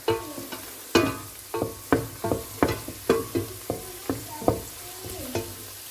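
Cut chicken wings fry in a pan, sizzling softly while a utensil stirs and scrapes in regular repeated strokes about every half second, close up and without talk.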